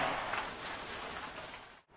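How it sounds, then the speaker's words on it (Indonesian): Rain pours steadily at the grave site of Syekh Abdul Gharib, a dense even hiss of drops on surfaces that cuts out abruptly near the end. "karena memang mendadak kondisi di lokasi makam Syekh Abdul Gharib ini hujan"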